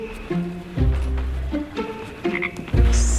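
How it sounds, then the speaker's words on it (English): A South American tree frog, a Kirkman toad, croaks in repeated low, buzzing calls with short gaps between them, close and loud, with no voices. "So this is the famous Kirkman toad? South American tree frog?"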